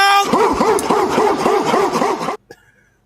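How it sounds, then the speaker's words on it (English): A little dog yaps in a quick, steady run of high barks, loud and close, for about two seconds, then it stops abruptly, leaving a brief faint tail. "Little dog bark."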